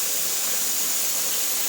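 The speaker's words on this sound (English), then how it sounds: "Okay, so hopefully you can see the steam now. It's a pretty strong vent." Steam vents in a strong, steady hiss from a pressure canner used for canning ground burger and taco meat, loud and close, a constant broadband rush with a faint high whistle and no pauses.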